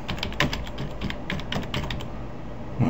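Quick, uneven keystrokes patter on a computer keyboard as a title is typed into a PowerPoint slide, close and fairly soft, with no voices over them.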